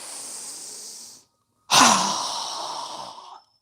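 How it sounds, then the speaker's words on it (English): Two slow, steady breaths during a yoga session, a long airy inhale through the nose followed after a brief pause by a fuller, louder exhale through the mouth, close and alone. "So inhaling through our nose, exhaling through our mouth."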